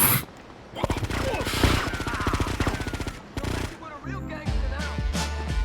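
Rapid bursts of automatic gunfire from GTA: Liberty City Stories crackle loud and close, with brief pauses between volleys, over game effects and some voice.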